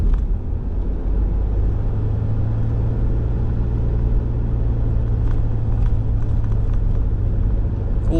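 Car cruising down a South Perth freeway, a steady loud interior road rumble and tyre roar with constant engine drone throughout, no break in the noise.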